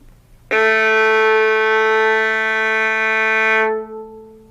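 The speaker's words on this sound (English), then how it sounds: "Let's play that A together" A low A is bowed on a violin's G string with the first finger, one long steady note ringing clearly for about three seconds, then releasing, with no voices present.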